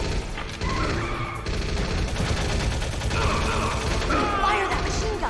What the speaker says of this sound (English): Fire that machine gun with your weapon.